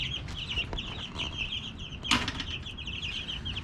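Young chicks in a coop cheeping and clucking in quick high chirps, close by, with a sudden flutter of wings partway through.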